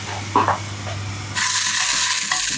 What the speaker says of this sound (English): we're just going to drop it into that hot pan that we've got